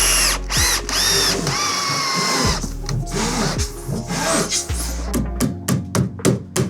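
A power drill drives a screw into a manor restoration workpiece, whirring in several bursts that rise and stop, then a quick run of short pulses as the screw tightens; close and loud, with no speech.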